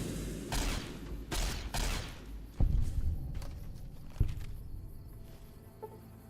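Combat in the video game Fallout New Vegas as a giant ant attacks: a few sharp thuds and burst-like impacts over buzzing, insect-like chatter, moderately loud then fading into lighter clicks.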